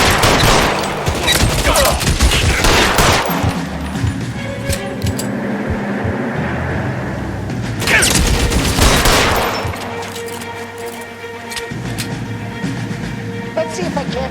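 Gunfire crackles through a shootout in the video game L.A. Noire, with dense bursts of shots and sharp reports rolling on and off over the whole stretch while a voice shouts over the action.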